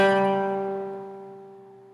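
Single guitar note picked on the D string at the fifth fret, ringing clearly on its own and slowly fading over about two seconds.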